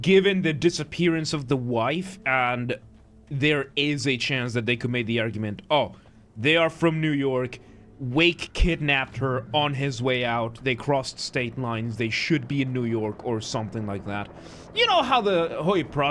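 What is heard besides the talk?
No distinct noise like a dog, phone or traffic.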